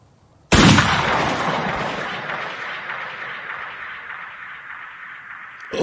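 A single loud gunshot from the film The Book of Eli, a sharp sudden blast that decays into a long, fading reverberant rumble lasting several seconds.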